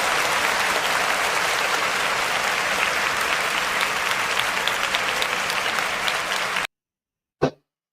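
A dense crowd applauds loudly and steadily for nearly seven seconds and then stops abruptly, followed by a brief isolated noise, inserted as a round of applause in a talk show segment.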